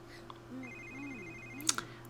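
In The Sims 3, a telephone rings softly in a short electronic pattern, with faint game sounds and a light click near the end.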